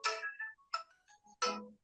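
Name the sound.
mobile phone ringtone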